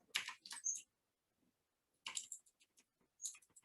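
Computer keyboard keys and clicks while selecting text, three short bursts of crisp tapping separated by near-silent pauses, quiet and close.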